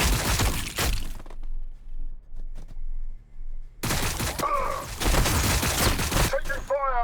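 Gunfire in Warhammer 40K Battlesector erupts in loud bursts of rapid shots and cracking impacts, pausing briefly before another heavy barrage, with a voice calling out near the end.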